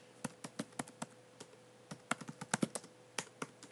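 Keys clack on a computer keyboard in short irregular bursts of typing, close and crisp against a quiet room with a faint steady hum.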